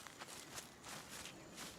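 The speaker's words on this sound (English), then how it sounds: "Can hear the footsteps" Footsteps in the video game Lost Rift, a few soft, evenly spaced crunching steps, faint and somewhat distant, heard alone without talk.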